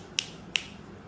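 Two crisp finger snaps about a third of a second apart, sharp and fairly close against a faint quiet room background, with no voices.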